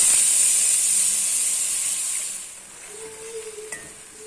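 Butter hits a hot, dry kadai pan on a stove and hisses loudly, the steady sizzle fading over a few seconds into a quieter simmer with a faint tone and small clicks.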